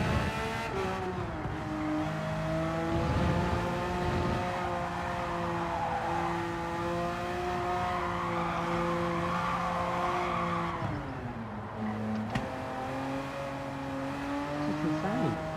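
A race car engine in the Gran Turismo 7 video game revs steadily and loudly, with tire squeal, then dips and climbs again through a downshift near the end.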